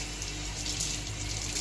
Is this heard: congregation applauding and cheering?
no